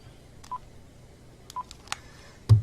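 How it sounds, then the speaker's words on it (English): Short electronic telephone beeps signal an incoming call on a live talk show, a few separate tones spaced out over quiet room hum, ending in a louder burst. "We got a phone call coming in, Joe."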